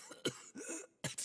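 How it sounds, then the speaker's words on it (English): A character in Pillars of Eternity 2 gives two short coughs, then clears his throat with a gurgling, retching rasp, up close and with no other sounds. "Vatnir nods, coughs, and then clears his throat with a gurgling retch."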